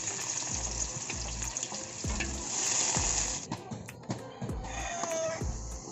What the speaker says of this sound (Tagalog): Maglagay po tayo ng mantika. Igisa ko lang ang ating bawang.